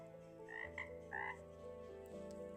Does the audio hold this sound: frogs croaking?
yes